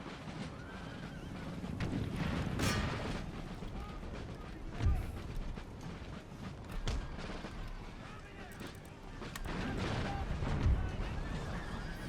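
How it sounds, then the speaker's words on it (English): Musket volleys in Empire Total War, a large battle against tribesmen and tribal levies, with booming fire over a dense din of combat, horses and crowd noise, and a person talking throughout. "That was a good volley."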